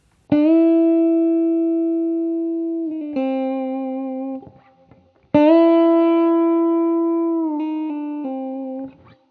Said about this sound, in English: bending on your 3rd fret of your B